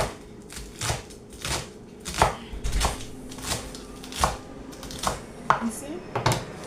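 A knife chops stem vegetables on a board in a home kitchen, sharp rhythmic thuds about once or twice a second, close and clear with a voice speaking intermittently.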